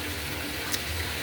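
A thin, steady stream of water runs continuously in a home aquaponics system feeding a Dutch bucket, a soft, even, close hiss with no pauses.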